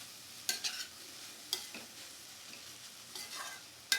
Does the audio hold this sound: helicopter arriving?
no